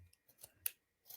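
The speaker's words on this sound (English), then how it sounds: "Trick to cutting is make sure you use sharp scissors, very sharp scissors, and I'm just going to cut them over the" Sharp scissors snip a few quick times in quiet, close, faint cuts. One crisper snip stands out among the softer ones.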